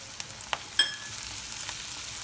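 Spiced corn filling with chili flakes, black pepper and Italian seasoning stirred in a hot pan, a steady sizzle with a few quick scraping strokes and one sharp clink of the utensil.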